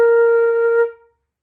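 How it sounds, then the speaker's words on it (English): A single sustained B flat on a concert flute, clear and close, held for nearly a second before fading quickly into silence. "The note you will play the most in a flute is a B flat."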